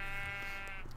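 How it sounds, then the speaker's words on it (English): A single sheep bleat in a Minecraft-style video game, a short wavering tonal cry close and clear over a quiet background. "This place is loaded with sheep"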